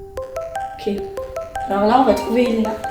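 A mobile phone ringtone plays a stepping electronic melody of repeated bright tones, with a person talking over it as the tune continues.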